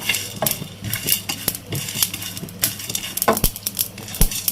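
Whole coriander seeds, cumin and black peppercorns dry roasting in a pan, with a busy run of sharp clinks, taps and scraping stirs against the metal, close and fairly loud throughout.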